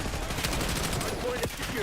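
Black Ops 6's Archangel scorestreak fires a rapid, dense stream of shots throughout, loud and close, with faint in-game voices mixed beneath.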